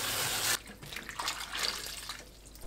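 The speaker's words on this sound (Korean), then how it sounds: "씻은 무말랭이를 깨끗한 물에 2번 더 헹궈 맑은 물이 나오게 씻어냅니다." Dried radish strips are rinsed under running water, a brief steady gush that cuts off, then softer splashing and swishing of water in a bowl, close and alone.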